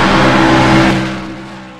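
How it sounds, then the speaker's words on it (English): A stock car engine roars loudly from the onboard view in a NASCAR racing video game, holding a high, steady drone before easing off slightly. "inside of the onboard view of this vehicle is pretty loud as well"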